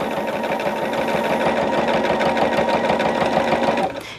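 A sewing machine stitches quilt binding in one loud, continuous run with a rapid mechanical chatter, then stops abruptly near the end.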